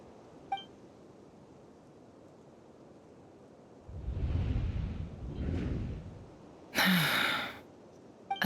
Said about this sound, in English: I heard Yehoda gasp, but I don't blame her.